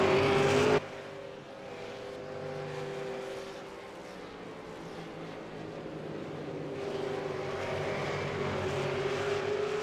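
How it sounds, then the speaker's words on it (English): V8 Supercars in a racing video game streaming through turn 1 at Zolder, a loud sustained engine drone that rises and falls as the cars push through the corner, with no other sounds. "All the drivers stream through turn 1."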